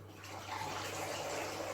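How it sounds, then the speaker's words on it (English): Water poured through a toddler's plastic funnel makes a steady, close splashing gush that carries through without a break. "So they can fill up their funnel and then open it up."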